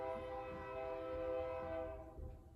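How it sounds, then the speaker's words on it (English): A train passes nearby with its horn sounding a sustained, harmonically rich blare that holds steady, then fades out over the last second against a low rumble of rolling wheels. "We do get train noises here."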